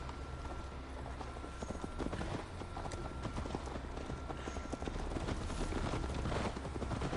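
Horses gallop along in Assassin's Creed Valhalla, a fast, continuous clip-clop of several sets of hooves on the ground, fairly close and steady, with only a faint trace of voices.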